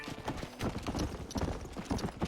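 Horse hooves clip-clop in the Red Dead Redemption game, a brisk irregular trot of several close, loud hoofbeats with a faint whinny behind.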